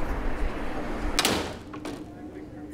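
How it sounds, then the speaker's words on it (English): A door opens with a brief loud clatter and thump at the entrance of a Baker Street house beside a noisy street, followed by a fainter knock, with continuous street noise behind. "Open the door."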